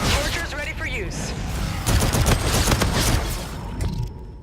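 Burst fire from the R3KT weapon in a video game: rapid, loud gunfire crackles in repeated bursts, dense and continuous, with a voice talking faintly over it.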